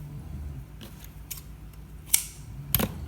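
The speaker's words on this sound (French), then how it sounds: "on se coupe un petit bout de laine" Scissors snipping a small piece of wool yarn for a pompom: two or three crisp, close snips spaced apart in a quiet room, with no talking.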